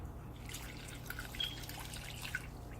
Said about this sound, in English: I'm gonna fill this up with 2 cups of water.